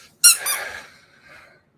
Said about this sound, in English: Squeaker. Dog toy.